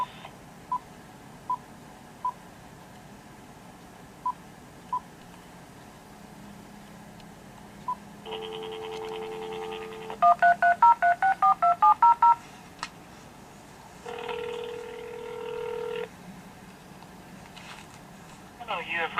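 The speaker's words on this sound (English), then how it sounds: "Now I'm going to call her neurologist and talk to them." Touch-tone keypad beeps ring out as a phone number is dialed to reach a neurology office, a faint run of short tones followed by a rapid burst of key presses, then steady ringback tones over quiet room noise.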